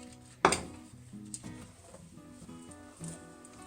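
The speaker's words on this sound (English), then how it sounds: "Now I'm going to add my oats." Oats poured a little at a time into a too-small mixing bowl of chocolate peanut butter no-bake cookie mixture, with a sharp clatter at the start, then soft rattling, stirring and scraping that continues quietly throughout.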